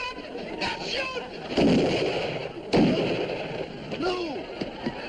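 Gunshots fired at a bear in moonlight in the Abbott and Costello comedy show: two sharp, loud blasts about a second apart, with excited voices talking and shouting around them.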